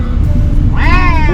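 A cat gives a single rising meow near the end, heard over a loud, rumbling background.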